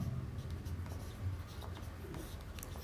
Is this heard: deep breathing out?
no